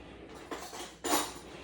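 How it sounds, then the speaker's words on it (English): A metal spoon clinks twice against a dish of stew, two quick bright taps half a second apart over a quiet room, close and fairly soft, no talking. "Let me get a spoon."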